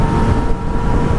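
Yamaha XSR900 motorcycle engine running in standard mode, a steady loud broadband roar overlaid with wind rush from riding at speed, close and continuous with no talking.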